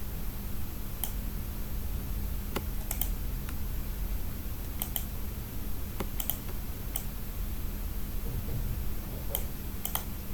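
Computer keyboard keys pressed for copy and paste shortcuts while working in Excel: sparse, crisp clicks and taps, some in quick doubles, spaced irregularly over a low steady hiss.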